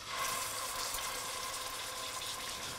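A meat roast searing in shimmering hot oil, giving a steady, close hiss and sizzle that holds evenly throughout.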